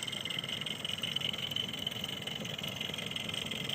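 A partially restored Willamette live steam model locomotive sits idling with a steady, even, slightly raspy mechanical hum and hiss, close and moderately quiet, continuous with no break and no talking.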